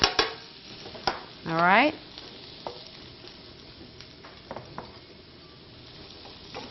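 Cheesesteak filling fries in a pan with a low sizzle while a utensil scrapes and clinks against it in scattered strokes, and a person speaks briefly.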